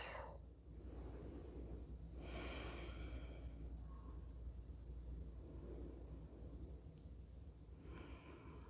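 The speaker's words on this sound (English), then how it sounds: "practice here around 8 belly breaths" Slow belly breathing held in a seated yoga twist, long soft inhales and exhales rising and falling against a low steady background hum, close and quiet with no talking.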